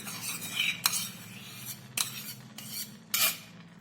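Malai cream being stirred in a kadai for carrot halwa: a steady low simmering bed with several sharp scraping clinks of a spoon against the pan, close and alone.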